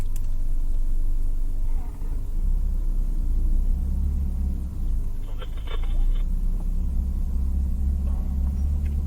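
A Ferrari race car engine heard from inside, a steady loud low rumble that dips briefly and then builds again as the car pulls away, with a faint mechanical clunk midway.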